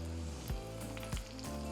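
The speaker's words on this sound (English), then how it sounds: "And just fry the garlic cloves." Tomatoes and garlic cloves fry in a pan with a steady crackling sizzle, quiet and close, broken by a couple of soft stirring bumps, with no speech.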